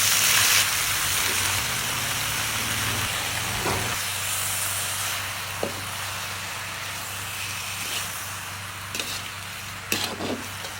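Seasoning with salt, flavour enhancer and sugar stir-fries in a hot pan, a steady close hiss and sizzle running throughout, broken by a few sharp scrapes of a utensil against the pan.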